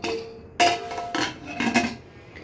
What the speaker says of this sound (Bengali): আস্তে আস্তে করে আমি রান্নার প্রিপারেশন প্রেসার কুকারে দিলাম যাতে তাড়াতাড়ি হয়ে যায়